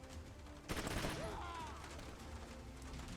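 Quiet gunfire from the turn-based tactics game Troubleshooter: Abandoned Children, with a sharp burst of shots followed by a fading whine and a low background hum.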